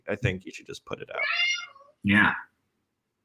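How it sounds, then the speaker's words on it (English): A pet cat named Leon meows indoors, mixed in with a person talking; a drawn-out, rising meow stands out in the middle of the speech, followed by a short vocal burst. "I don't know if you can hear a cat in the background"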